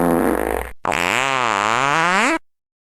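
Walter the dog farting: one short blast, a brief gap, then a long loud wavering toot that rises and falls before cutting off.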